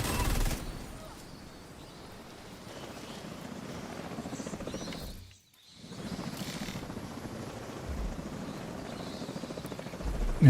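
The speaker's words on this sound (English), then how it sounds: "I just dislike the noise that that drone makes" A drone in a shooter video game flies with a steady whirring, buzzing drone that runs continuously, cuts out briefly midway, then resumes at the same moderate level.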